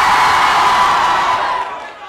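An audience at a Halloween costume contest shouts and cheers loudly in a sustained burst of crowd noise, fading out toward the end.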